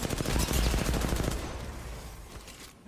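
Automatic gunfire from Apex Legends in a fast rapid burst, loud at first and then fading into quieter, scattered shots.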